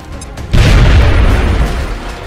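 A grenade detonates in the XCOM: Enemy Within video game, one sudden loud boom that swells into a rumbling blast lasting about two seconds before easing off, with no talk over it.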